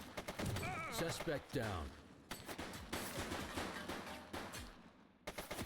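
Gunfire in the police game Precinct comes in rapid bursts and scattered shots, moderately close, mixed with urgent shouted voices.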